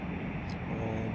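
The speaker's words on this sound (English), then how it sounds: "let's just back up on the old throttle" Simulated light aircraft engine in X-Plane 11 throttling back at altitude, a loud steady broadband drone with deep low rumble filling the whole stretch, a voice speaking over it.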